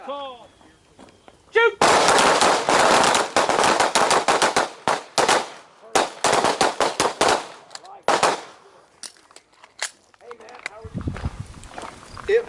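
Handgun fire at a combatives training range: loud, close shots come in fast volleys with brief pauses, tapering to scattered shots near the end, with voices heard around them.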